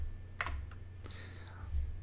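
Clicks from a computer mouse selecting a Tutorial help-menu item, a few sharp isolated taps against a low steady hum, with a short pause between them.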